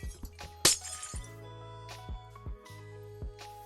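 A glass block shatters in a crop-building video game with a sharp crash and tinkle, followed by several softer block-placing thuds and clicks in a quiet scene.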